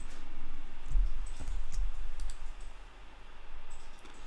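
Computer mouse clicks while working in Photoshop, a handful of sharp, close clicks spread irregularly over a few seconds against a quiet background.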